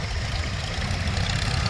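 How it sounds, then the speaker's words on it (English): A single-cylinder Field Marshall tractor engine runs with a few revs on, a loud, close, rough low chugging that holds steady throughout. "You do need a few revs on, because it's a single cylinder engine"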